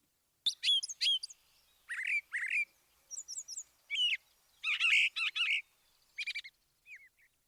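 American woodcock, the timberdoodle, giving a series of sharp, clear chirping and twittering calls in short bursts with brief silences between them, close and isolated against a quiet background.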